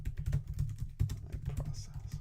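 Rapid keystrokes on a computer keyboard, close and moderately quiet, tapping in an uneven run with a brief pause, no talking.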